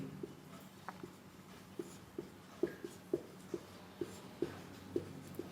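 Pen or chalk writing out a Hindi lesson on figures of speech, a quiet series of short scratchy strokes at an irregular pace over a low hum, with no voice.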